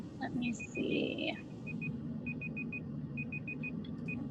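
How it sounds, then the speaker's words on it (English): A timer beeps during a candidate forum, sounding as a small, high electronic tone repeated in short bursts and gaps, moderately distant, with a voice speaking briefly at the start. "someone's timer is going off somewhere"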